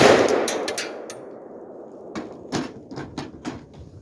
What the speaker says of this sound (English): We're going to go AK-47 first, okay? Romanian AK-47.